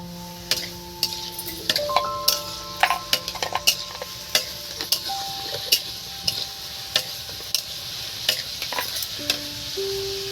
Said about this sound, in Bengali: আর এবার বন্ধুরা একটু নেড়ে চেড়ে দিচ্ছি